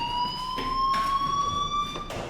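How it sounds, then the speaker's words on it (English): Fire alarm in the video game Life is Strange, a steady high electronic tone sounding continuously, loud and close, with faint background sounds flaring up now and then underneath. "Hey, do you hear that fire alarm?"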